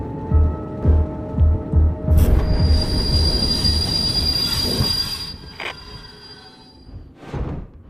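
Video-game train wheels squeal as the train stops, a long high metallic screech over loud rumbling and rhythmic clunks of rail joints, with the screech fading out near the end.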